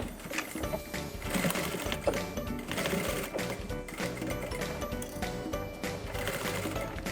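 Sewing machine stitching a fabric bag under the presser foot, a close rapid mechanical chatter with short bursts and brief stops, running loud throughout.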